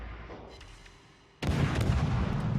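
Naval artillery fire in the World of Warships game: after a quieter stretch of distant rumble, a loud, close salvo of ship guns booms out and rolls on as a sustained heavy roar.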